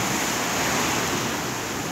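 Ocean waves heard as a steady, loud wash of surf, a broad continuous roar with no distinct breaks and no voices.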